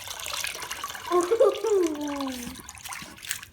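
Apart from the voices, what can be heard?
water rinsing paint off a deer skull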